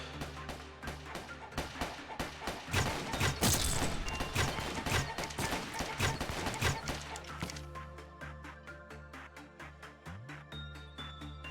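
Soldiers firing on an SCP creature in a video game: rapid volleys of gunshots and crashing impacts pile up over a droning background, then give way to steady clicking rhythmic strikes.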